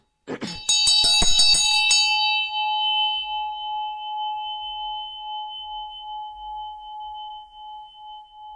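A single bell tone, the B note for the crown chakra, is struck once with a bright clanging attack, then rings on as a clear sustained hum that slowly decays over several seconds, alone and close.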